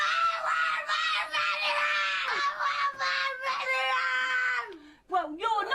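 A loud, shrill scream held for several seconds with brief breaks, followed by a short burst of excited voices.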